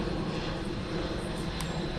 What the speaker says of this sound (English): This plane coming in right now